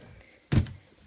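A dressing-room drawer slides open with a short wooden thunk, one brief knock rising out of near silence and quickly fading, close and fairly soft.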